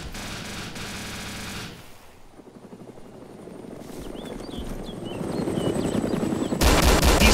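Video game gunfire from a Blackhawk helicopter: a steady loud rotor drone with bursts of rapid automatic fire, building to a dense, louder barrage at the end.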